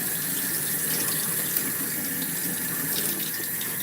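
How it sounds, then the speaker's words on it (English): Cold tap water runs in a steady, continuous stream to rinse a coil, close and fairly loud with no talking. "now I'm gonna hit it with cold water and clean it"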